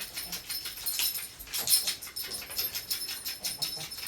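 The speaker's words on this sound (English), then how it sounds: "And the dog is scratching her collar in the background." A dog scratches at her collar in the background, a quick rhythmic jingling and rattling in repeated bursts, fairly faint but steady, with no talk.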